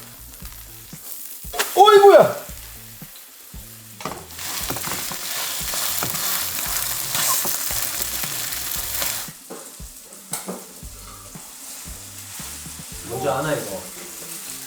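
Seafood green onion pancake (haemul pajeon) sizzles and fries loudly in a pan, a steady crackling hiss through most of the stretch, with people talking briefly over it at the start and near the end.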